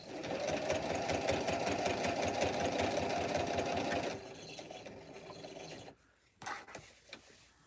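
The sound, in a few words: sewing machine stitching fabric for a ghost pillow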